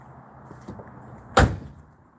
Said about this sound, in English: gotta close the stupid door